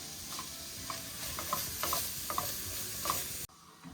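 Sweet and smoky beef mixture sizzling in a pan, a steady close fry hiss with occasional clinks of a utensil stirring, cutting off abruptly near the end.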